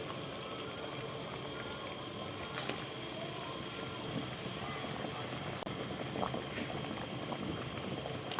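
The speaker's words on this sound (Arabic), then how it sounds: "نرفع المية على النار تغلي" Water boils in a pot on the stove with tamarind and a sheet of apricot paste, a continuous soft bubbling and churning roil, steady and fairly quiet, with a few faint clicks.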